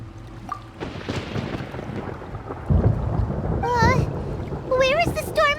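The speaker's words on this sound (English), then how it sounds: "Paimon hears thunder!" Rumbling thunder rolls through a stormy scene in the Genshin Impact video game, building and swelling over wind noise. Chirpy, warbling electronic tones join in near the end.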